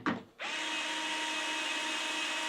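A power drill drives small black screws into the bracket of a palm-reading smart door lock. The motor whine begins after a short handling sound and then holds steady and close.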